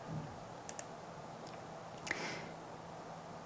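A computer mouse clicks while navigating a website: a few faint, sharp clicks come at scattered moments, including a quick pair early on and one later, over quiet room hum.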